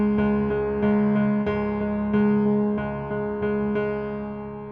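Steady piano eighth notes repeat on C sharp at an even, moderate pulse, each note struck cleanly and ringing briefly into the next, played alone with no talking.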